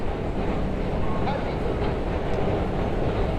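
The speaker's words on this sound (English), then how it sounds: "So this is basically 34th Street, Hudson Yard, 7 train substation" Inside the 7 train subway station at 34th Street–Hudson Yards in New York City, a continuous low rumble of trains and echoing station noise fills the space, with faint voices mixed in.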